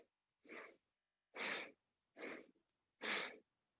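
Four sharp, forceful nasal exhales in yoga breath-of-fire practice, each a short breathy burst spaced about a second apart, close and distinct against near silence.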